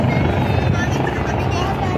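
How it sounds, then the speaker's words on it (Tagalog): A helicopter flies overhead with a steady, close, loud rotor drone, while a person talks over it. "Ayan yung helicopter, oh."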